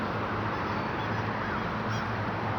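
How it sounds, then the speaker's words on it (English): A big crow caws outdoors, its faint, brief harsh calls rising twice over a loud, steady wash of wind-like background noise. "A big crow cawing at me."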